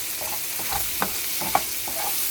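Bacon frying in a pan for breakfast burritos, a steady soft sizzle with a few brief clicks and scrapes, close and moderately quiet, no talking.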